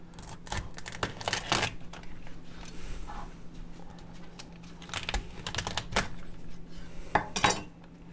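A knife cuts a lobster in half on a kitchen board: a series of sharp cracking and clicking crunches in quick bursts, fairly close, with quieter rustling between them and no speech.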